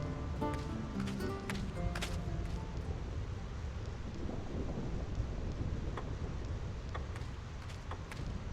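Thunder rolls across the Thunder Plains in Final Fantasy X, a steady loud rumble mixed with rain-like hiss and occasional sharp crackles, continuous through the whole stretch with no talking.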